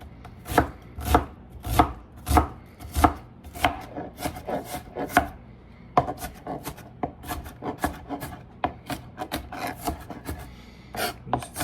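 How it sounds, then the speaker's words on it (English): A knife cutting onion on a board for pico de gallo, with a brisk run of sharp, close chops in an uneven rhythm, slightly softer scraping strokes between them, and no talking. "You don't want to spend all day cutting your onion."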